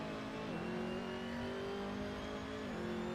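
Race cars in Assetto Corsa howl on a 24-hour endurance race as they drive into a corner, a steady high engine drone that drops pitch twice as the drivers shift and brake, loud and continuous with no talk.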